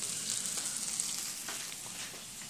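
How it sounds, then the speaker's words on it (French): Peppered steaks cooking in a frying pan, giving a soft, steady crackling sizzle with fine pops, fairly quiet and close, without any speech. "Faire cuire des steaks."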